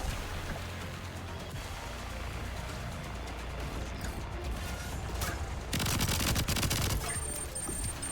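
Gunfire in the roguelike first-person shooter VOID//BREAKER, a steady stream of rapid shots over dense game sound, swelling to a louder burst near the end.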